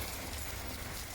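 Heavy rain pours down onto a surface in a steady, dense, unbroken wash of noise, loud and close throughout, with no voices.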